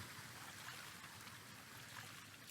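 A small creek in the video game The Infected, water trickling steadily out of the ground with a soft, continuous gurgle, quiet and unbroken, without any voices.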